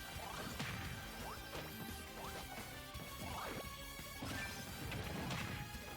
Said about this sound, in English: the Lloyd Rocket did explode on Lucas thereafter